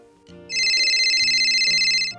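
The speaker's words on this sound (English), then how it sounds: "It looks like we have a phone call from one of our friends." A telephone ringtone in a children's sign-language show trills loudly and steadily for about a second and a half, a bright electronic warble over a soft low musical bed.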